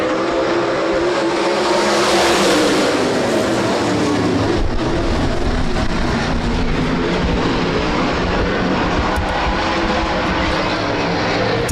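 A pack of 360 sprint cars in the Midwest Sprint Touring Series thunders off at the green flag of a heat race at Rapid Speedway, engines roaring loud and continuous as the field launches and circles the dirt oval.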